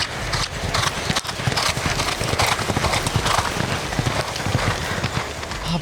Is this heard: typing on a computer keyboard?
no